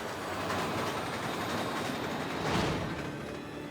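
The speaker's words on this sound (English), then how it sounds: "What do you mean the train hit me?" A train in Resident Evil 6 roars through, a dense, continuous rumble and rattle of rail noise at steady loudness with a brief surge near the end.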